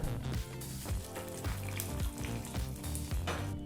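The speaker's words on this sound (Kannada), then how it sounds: "ಈ ರೀತಿ ಸಿದ್ಧವಾದಂಥ ಒಗ್ಗರಣೆನ ಸಾರಿಗೆ ಹಾಕ್ಕೊಳ್ಳೋಣ ಈಗ" Hot tempering of oil with curry leaves poured into sambar, a continuous frying sizzle with bubbling and light clinks, fairly close and steady throughout with no talking.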